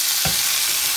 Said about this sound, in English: Pan fry the prawns on both sides. Give them a little shake.